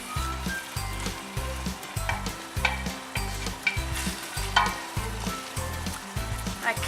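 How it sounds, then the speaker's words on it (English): Onions and leeks sweat in butter in a pan for potato and leek soup, giving a steady close sizzle broken by repeated low rhythmic scraping strokes of stirring, with no voices. "Onions and leeks are high in lysine, which keeps all the nasty cold sores and colds and sinus infections away. And we'll sweat them down until they're nice and soft."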